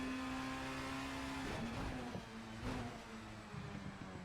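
Touring cars race around Brands Hatch Indy in a racing video game, a steady engine note breaking into shifting revs and downshifts through a corner, moderately loud with a rougher texture in the second half.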